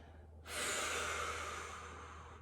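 A single sustained breath of noisy air starts abruptly and carries on steadily, close and fairly loud, during a guided mobility stretching exercise, with a low steady hum beneath it.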